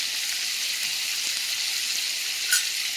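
Breaded hamburger steak sizzling steadily in a skillet, a bright even crackle of frying fat close up, with a faint clink near the end.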